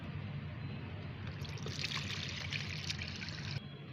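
Fermented homemade plant fertilizer liquid is poured through a strainer, making a steady, close trickle and splash that holds at an even level throughout, with no talking.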